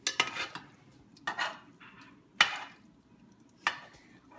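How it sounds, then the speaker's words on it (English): A utensil clinks and scrapes against a pan while noodles and shrimp are tossed in alfredo sauce, giving several sharp, close strikes separated by soft stirring with no talking. "I'm just gonna mix it around so it coats all the noodles"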